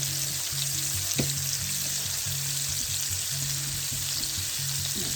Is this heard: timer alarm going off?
no